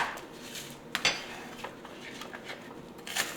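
A knife dices an onion on a cutting board in a home kitchen, giving faint, scattered taps and clinks at an uneven pace, close but quiet.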